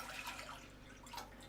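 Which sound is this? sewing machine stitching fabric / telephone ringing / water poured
water poured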